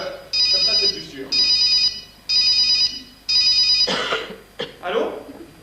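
A telephone rings in four regular electronic bursts, loud and close, then stops as people speak and someone clears their throat.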